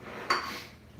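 Kitchen cutlery clatters briefly as a knife is pulled from a drawer, a single sharp metallic rattle that quickly fades.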